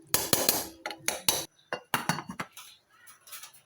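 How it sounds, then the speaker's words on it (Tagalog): Metal clanks and clinks as a lid goes onto a cooking pot of mung beans with vegetables, several sharp taps in quick succession, close and fairly loud, trailing into softer rattles, without talk. "takpan muna natin saglit."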